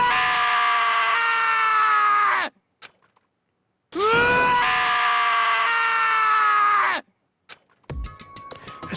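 Taka screaming in sorrow in Danganronpa: two long, loud, anguished wails of about three seconds each, separated by a brief silence, followed by faint ticking sounds.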